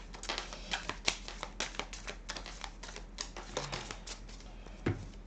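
Leicester Tarot cards shuffled and drawn by hand, a quick run of crisp papery clicks and riffles spread across the clip at close range, with a slightly louder flick near the end and no talking.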